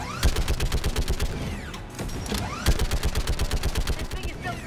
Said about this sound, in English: Shepard, you can use that Geth turret.